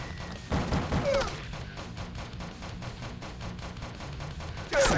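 Grenade blasts and a rapid fusillade of gunfire during a two-part boss fight in the video game Donuts'n'Justice, with dense repeated shots throughout and louder bursts near the start and end.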